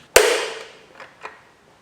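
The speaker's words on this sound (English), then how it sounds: "You see that went with quite a pop because they're quite tightly stuck down" Camshaft carrier on a 2014 Ford Mondeo Mk4 2-litre diesel engine popping loose as it is prised off: one sharp, loud crack with a brief ring, then two faint knocks.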